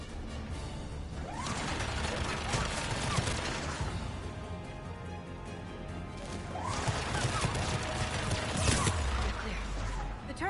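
Turret gunfire in the video game Mass Effect Legendary Edition: two loud stretches of rattling, crashing shots, separated by a brief lull, with combat noise running underneath throughout.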